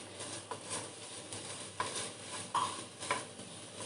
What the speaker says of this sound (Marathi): कंटिन्यू याला आपल्याला ढवळत राहावं लागतं किंवा कंटिन्यू आपल्याला असं याला मॅश करत राहावं लागतं